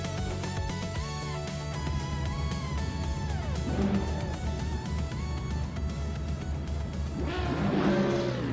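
Several race car engines roar and rev together at the start of a video game race on the Ottawa Full Circuit, a dense continuous engine din with rising pitch sweeps and no voices.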